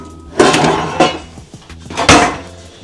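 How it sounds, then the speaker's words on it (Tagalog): Pots and pans clatter and bang as they are stacked away into kitchen storage, with three loud metallic crashes among lighter knocks and scrapes, close by. "Tatabi lang natin yung mga pot tsaka pans sa mga lagayan."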